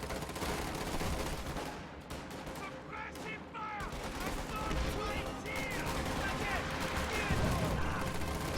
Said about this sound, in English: And Stuka Close Air Support just got called in on them.